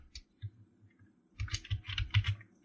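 Keystrokes on a computer keyboard while coding in Android Studio: a few scattered taps, then a quick burst of close, crisp clicks, with no talking.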